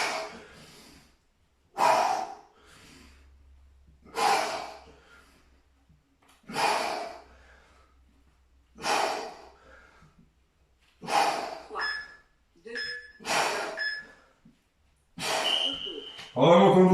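Heavy breathing during a bodyweight HIIT workout: loud, rhythmic exhales and gasps come every two seconds or so, close to the microphone, speeding up toward the end.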